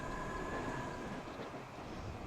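A London Underground Metropolitan Line train runs in Transport Fever 2 near Ickenham. The rumble is steady and continuous, with a faint whine above it, and there is no talking.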